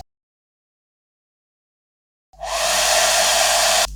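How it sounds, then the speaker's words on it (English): After two seconds of silence, a handheld hair dryer switches on and blows a loud, steady whoosh for drying dyed paper doilies, running alone to the end. "When you use the dryer to dry your doilies, if you put the dryer here and turn it on, it's going to blow it off the table."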